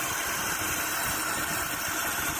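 A motorcycle travelling above 30 km/h gives off a loud, continuous engine drone with a steady vibrating hum, close up and unbroken throughout.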